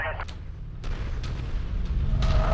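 Tank cannon fire in a combat video game, a few sharp booming shots over a steady low rumble, with speech in the background.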